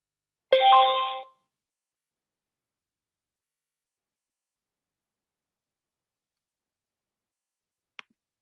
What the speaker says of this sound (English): Just got a notification.